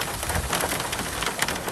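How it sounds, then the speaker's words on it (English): A spring hailstorm with wild, gusting winds in suburban Victoria, heard as a dense, steady roar of pattering ice striking surfaces, fairly loud and continuous throughout with no voices. "Victorians are shivering through spring, rocked by blasts of wild winds and ferocious hail"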